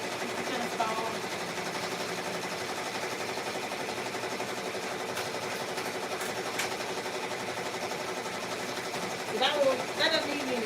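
A heavy Racoma commercial embroidery machine runs nearby with a fast, even mechanical chatter that holds steady throughout, while a voice talks briefly near the end.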